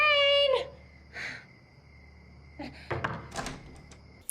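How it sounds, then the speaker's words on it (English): A house door opens in a horror film scene: a brief rising creak, then a soft thud, later a cluster of latch clicks, knocks and bumps close by over a quiet, humming background, with no talk. "She opens the door to Zayn's house."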